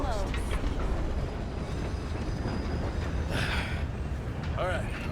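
Train rumbling in the Red Dead Redemption 2 game, a steady low rolling roar throughout with brief squealing tones near the start and end, while people talk over it.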